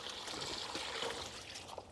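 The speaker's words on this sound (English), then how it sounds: "I'm just bottling some customers' spring water into these 20 litre BPA free containers" Spring water pours steadily into 20 litre BPA-free containers while customers' water is being bottled, giving a continuous close trickling, splashing wash that holds an even level throughout.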